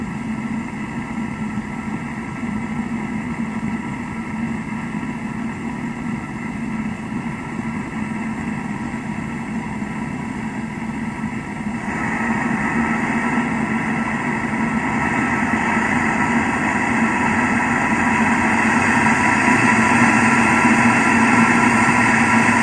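A metal-melting furnace cranked up, a steady loud roaring drone that grows noticeably stronger partway through and holds there, with no talk.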